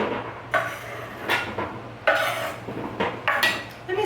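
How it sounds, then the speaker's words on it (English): Potato spears set down on a metal cookie sheet pan in a home kitchen, with several sharp clinks and clatters spaced a second or so apart over quiet background. "I'm going to go ahead and put them on the cookie sheet pan for the moment"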